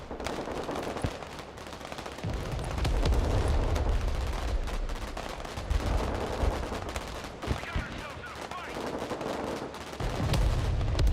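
Gunfire from the USA-versus-Russia war game Broken Arrow: dense, overlapping bursts of shots and rattling automatic fire roll over a continuous battle din, loud and sustained throughout, with sharp low thumps standing out near the start and end.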